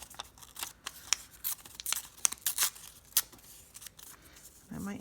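A paper doily is torn at the corner in short, crisp rips and crinkles, close and fairly quiet, uneven in rhythm during a polymer clay bookmark craft, with a brief low voice near the end.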